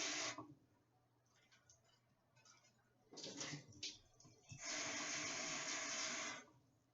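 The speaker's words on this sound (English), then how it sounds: "I'm gonna rinse them off with cold water." Cold tap water runs over cut apples, a steady splashing rush that comes in bursts, swells near the end into a loud continuous stream, then cuts off.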